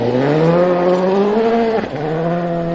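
A rally car on a New Zealand gravel special stage in Whangarei drives flat out through a corner exit, its engine note loud and steady with rising harmonics, then a brief dip at a gear change before the drone resumes close up.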